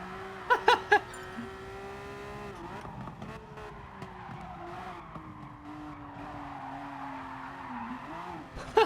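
A car drifting in the racing game GT Sport, with a sustained wavering tire squeal over engine drone and a few sharp clicks near the start and end.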